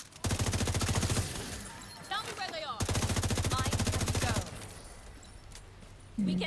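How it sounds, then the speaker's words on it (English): Rapid machine-gun bursts rattle out in a video game, two long loud volleys of fast automatic fire separated by a brief pause, with a voice speaking near the end. "just like right now, shooting the biggest thing in the room"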